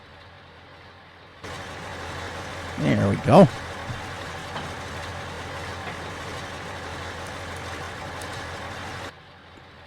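A tractor reverses in Farming Simulator 22, its engine a steady low drone running throughout with brief louder bumps early on, while someone talks over it.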